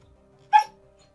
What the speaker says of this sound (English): Oh, this pup's got to go out.